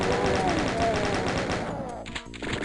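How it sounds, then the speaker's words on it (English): A chain gun fires in Doom 2, a rapid, loud stream of shots rattling continuously for about two seconds, then cutting off briefly before a few more shots and game noise. "stay back and use your chain gun"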